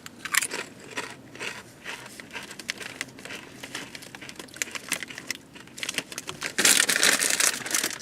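Crunchy bites and chewing of a Jersey Mike's meatball and cheese sandwich, close and fairly quiet, with crackling crinkles throughout and a louder burst of crunching near the end.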